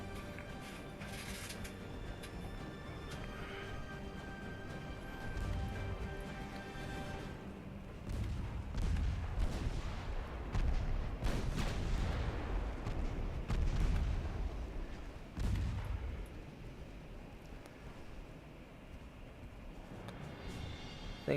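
In the naval warfare game Ultimate Admiral Dreadnoughts, 10-inch warship guns fire in a run of heavy booms. The thuds are loud, low and spaced across the middle of the clip, set against a steady game backdrop with no talk.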